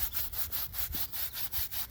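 A brush scrubs mold off the air pre-filter of a Ferris 52-inch walk-behind mower in quick, rhythmic back-and-forth strokes, close and scratchy, about a dozen passes.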